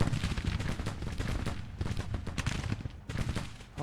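Dense battle gunfire in the video game Grand Tactician, many overlapping rifle and cannon shots crackling in rapid irregular bursts, continuous and fairly loud with no gaps.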